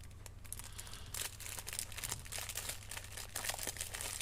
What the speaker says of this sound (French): Alors, attendez, j'essaye d'ouvrir les sachets.